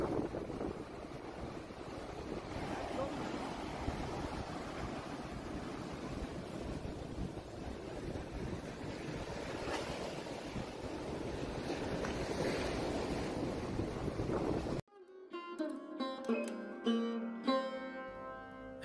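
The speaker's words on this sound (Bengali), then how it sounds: "এই বিচটা পাথুরে দেখছি, প্রচুর রকস আছে ছড়িয়ে ছিটিয়ে।" Surf washing onto a rocky beach at Gokarna with wind buffeting the microphone, a steady broadband roar; near the end the sound cuts abruptly to a tonal musical passage.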